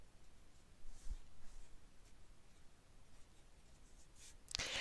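A pen drawing a Zentangle pattern on paper: faint, soft scratchy strokes at close range, mostly quiet, with a brief louder scrape near the end.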